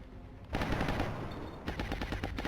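Automatic weapon fire in XCOM: Enemy Within with the Long War mod. A loud, dense volley of rapid shots runs for about a second, then a second string of distinct cracks follows.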